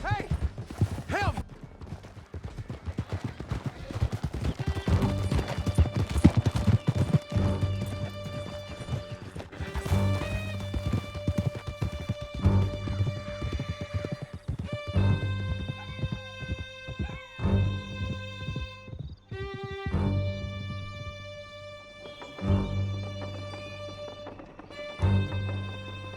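Horses galloping in Red Dead Redemption 2: a continuous drumming of hooves with occasional whinnies and crashes, under a tonal musical score, with characters shouting at times.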